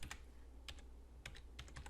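Scattered, clicky keystrokes on a computer keyboard, close and fairly quiet, coming in short bursts with brief pauses between them.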